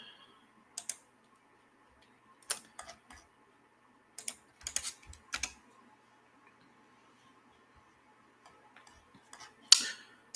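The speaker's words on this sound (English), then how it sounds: "Let me type in." Sparse bursts of clicking keys on a computer keyboard, a few short clusters of taps separated by quiet gaps, close and fairly faint, with no talking.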